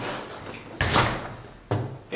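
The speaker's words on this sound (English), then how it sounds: "and you shut your door" An exterior door on a guesthouse under construction is shut, giving two solid thuds about a second apart over a low background hum, close and fairly loud.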